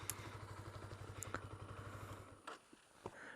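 A 2015 Honda CBR 125R motorcycle engine throbs with a steady, rapid low pulse for a couple of seconds, then cuts out, leaving a few faint clicks and thuds; quiet overall.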